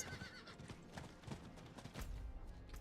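A horse in Diablo IV neighs and clip-clops, a whinny over steady hoofbeats, fairly faint throughout with a heavier thud near the end.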